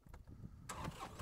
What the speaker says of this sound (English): So I'm going to start up the tractor